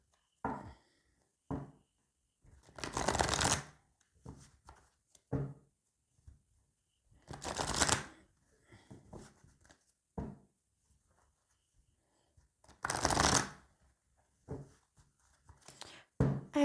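Oracle cards shuffle in hand in repeated bursts of papery riffling and soft slapping, each a few seconds long, close and fairly quiet, with quiet gaps between them.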